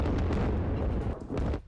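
Heavy explosions from a US Air Force bombing of Iranian missile launchers, a dense, loud rumbling series of booms lasting under two seconds before cutting off.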